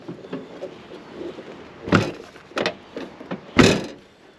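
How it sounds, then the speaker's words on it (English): Rear door of a Toyota Prado 90 swung shut after a visor is fitted, with a few solid thuds and clunks close by, the loudest one near the end, and no talking. "now let's close the door and make sure that the brackets don't hit on anything"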